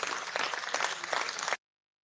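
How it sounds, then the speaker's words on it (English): A short burst of dense clapping, like a small crowd applauding, steady for about a second and a half before cutting off abruptly. "Or a real, actual round of applause"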